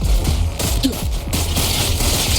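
Gunfire in the video game Wuthering Waves: a dense, continuous volley of rapid shots with heavy low booms and sharp cracks, loud and close, with no voices.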